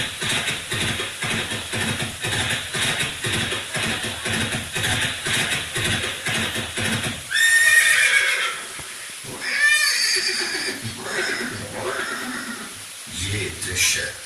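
A horse, Chetak, gives a loud, shrill neigh, then a second whinny a moment later, both following a long stretch of steady talking.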